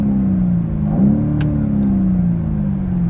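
A BMW M850i's engine revving in neutral while parked, a loud steady low rumble that swells briefly and then settles back to a smooth idle.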